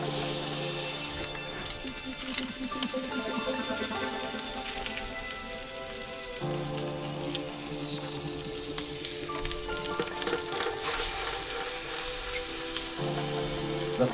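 Blackened trout sizzles and fries in butter in a pan over slightly under medium heat, a steady dense crackle throughout with brief shifts in intensity and faint background sounds.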